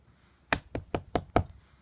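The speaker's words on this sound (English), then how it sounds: "he heard the big bad shark knocking at the door" Five sharp knocks on a door, evenly spaced, close and crisp against near silence, with no voices.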